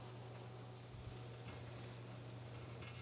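Vegetables, butter, fat and a tablespoon of flour sizzle gently in a pan as a white roux starts, a faint steady hiss with a low hum beneath and no talk.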